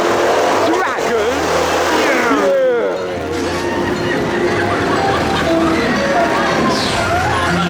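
Dragon's Fury roller coaster running at Chessington World of Adventures on a Halloween opening day, with a steady rumble and clatter of wheels on track and squealing curves, under loud voices and screams from riders.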